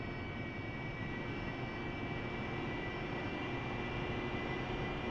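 Steady, loud jet engine roar from an AV-8B Harrier taxiing on a carrier deck in DCS, a continuous broadband rumble with a high whine holding level throughout.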